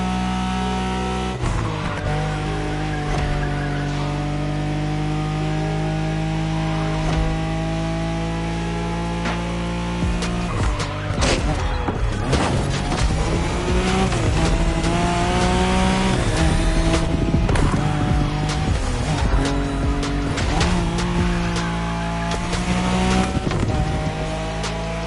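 A Nissan Skyline racing in The Crew Motorsports roars loud and close, its engine revving through gear changes, with tire squeals, skids and gritty bursts over a steady background score.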